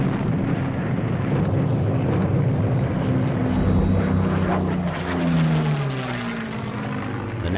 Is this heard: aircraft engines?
yes